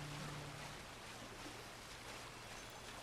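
Waterfall and water in the video game Clair Obscur: Expedition 33, heard as a steady, dense rushing roar that stays even and close for the whole stretch.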